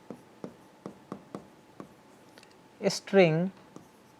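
Writing out a line of Java code declaring a string: a steady series of soft, evenly spaced taps, then a brief burst of speech near the end.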